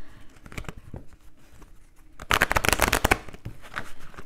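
A Belline oracle card deck shuffled by hand: a few soft riffles first, then a dense, loud burst of rapid card flutter, fading into lighter shuffles.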